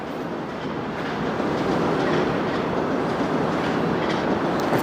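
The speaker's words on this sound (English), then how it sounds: "we have some subway action" A Toronto subway train rolls past at night in Midtown, a steady loud rumble with faint rhythmic clatter of wheels that swells slightly and holds throughout.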